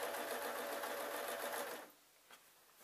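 A sewing machine stitches a pompom cushion made from loose-threaded cloth, whirring steadily and close up for almost two seconds before stopping abruptly into near silence.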